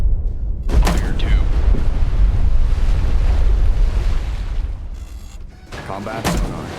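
Depth charges bursting underwater in Destroyer: The U-Boat Hunter, heavy muffled booms and rumbling surges of churned water, loud and close, with a couple of sharp blasts rising over a continuous low roar.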